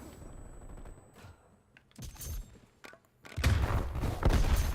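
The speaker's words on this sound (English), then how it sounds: "Ow, who the fuck is shooting me?" Gunfire in the Call of Duty Black Ops Cold War video game: scattered shots and thuds early, then a dense, loud burst of sustained firing in the final second and a half.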